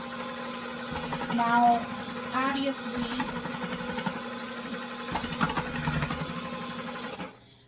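An electric slicer runs with a steady motorized whir and hum while cutting tomatoes for freeze drying, a continuous mechanical drone that holds for several seconds before cutting off, with a brief spoken word at the start.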